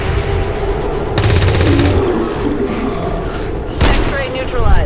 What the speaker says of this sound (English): I can use an anti-material rifle on them if I want